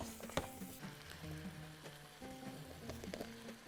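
Ingredients are stirred in a frying pan for a Bahraini dish, with soft sizzling and scattered scraping taps from the utensil and no voices.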